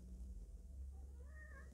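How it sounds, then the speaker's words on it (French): A house cat gives a short, quiet meow near the end, rising and falling against a low indoor hum, with no talking. "C'est le chat."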